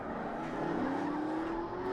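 Drift car at Holley LS Fest West during drift challenge qualifying, engine roaring with a rising tire squeal through a corner, loud and close.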